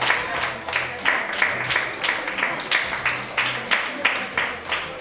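Audience applause at a figure show, a steady patter of many hands clapping in rhythmic surges, fairly close and continuous throughout.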